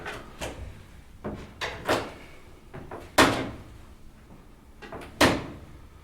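An old staircase in a large building creaks several times as someone climbs, separate drawn-out groans and squeaks standing out loudly against a quiet background.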